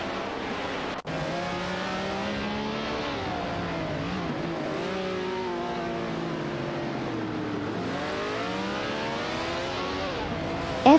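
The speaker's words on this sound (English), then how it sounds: "some exciting AI race car action" Race cars in an AI racing video game drone and rev together, their engine pitches rising and falling as they accelerate and shift; loud and continuous, with no talk.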